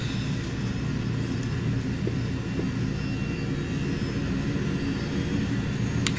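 A Falcon 50 business jet taxiing at idle in the Prepar3D flight simulator, a steady low engine rumble and whine that holds evenly throughout with no voices.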